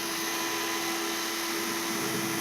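A power drill runs steadily from go and stop control buttons instead of its trigger, a continuous high whine with a constant pitch held for the whole stretch, with no speech.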